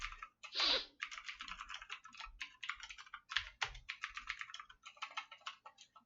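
Rapid, uneven bursts of keystrokes on a computer keyboard, close and fairly quiet, with short pauses between clusters of clicks and no voices.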